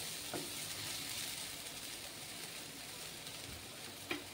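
Leafy greens (shak) fry gently in a pan over low gas heat, making a soft, steady sizzle with a faint crackle or two and no talking.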